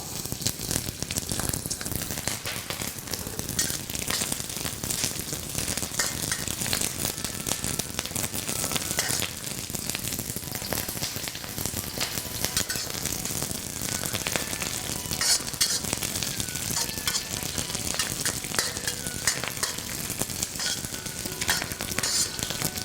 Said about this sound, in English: Then I'm going to add a few slices of ginger and some green onions.